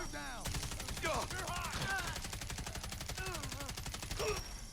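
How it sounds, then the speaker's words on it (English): Rapid sustained burst from the MW2019 Holger-26 machine gun in Fallout 4, a dense stream of evenly spaced shots, loud and close, with a person talking over the firing. "So with one gigantic burst, we're able to slaughter every single one of these gunners in here"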